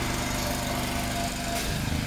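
Steady, loud drone of a running engine motor, close and continuous with no break, alone with no talk over it.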